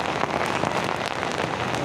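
Rain pours steadily during a morning motorbike ride through Jakarta, a dense, even hiss of drops striking surfaces close by, with no voices.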